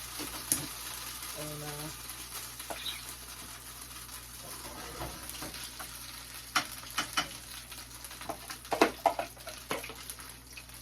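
Pancakes frying in oil that is too hot, spitting and splattering in scattered sharp pops over a low steady hiss, growing busier toward the end, with brief speech from a person nearby.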